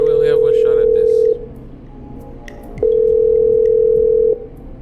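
Telephone dialing in the video game Killer Frequency: a steady electronic tone sounds, breaks off, then returns for another long stretch, with faint background noise between and speech early on.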